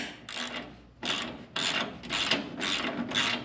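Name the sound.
ratchet tightening a trailing arm crossmember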